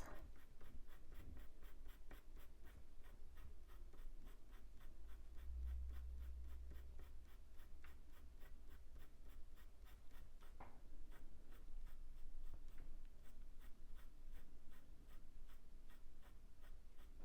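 A colored pencil scratching across paper while drawing a duckling, a steady close-up rasp of quick, repeated strokes that keeps going without pause, fairly quiet, with no one talking.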